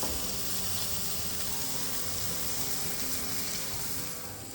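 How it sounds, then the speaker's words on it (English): Ribeye steaks and vegetables on a medium-heat grill give off a steady, close sizzle and crackle that continues evenly, with no talking over it. "So medium part of the grill, set it up, and we'll start lining up our vegetables."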